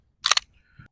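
A pistol's trigger clicks once during dry-fire practice: a single short, sharp mechanical snap with a quick double edge, heard close against near silence.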